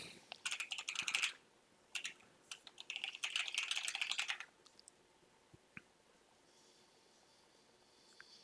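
Fingers type on a computer keyboard in quick bursts of crisp clicks with short pauses between, close up, then a few isolated taps before falling quiet.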